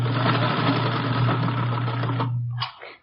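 A sewing machine runs steadily for a few seconds while stitching ruffles onto the bottom of a brown skirt. The motor hum is loud and close, then it stops abruptly and a faint rustle follows.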